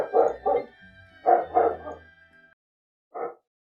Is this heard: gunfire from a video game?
no